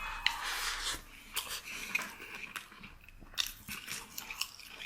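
Crispy dry-fried Qiubei chili peppers crunch between the teeth up close, with a series of sharp, brittle bites and chewing crackles spread unevenly over a few seconds, and no talking.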